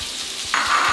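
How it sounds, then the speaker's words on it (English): Onions and orange and yellow peppers hitting hot canola oil in a pan, a sudden hissing sizzle that swells partway through and holds steady, close and loud with no talking. "We're just gonna sweat them down"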